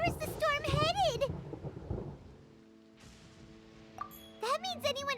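Thunder in the video game Genshin Impact, a loud broadband roll under and after character speech, fading into a quieter stormy hush before voices return.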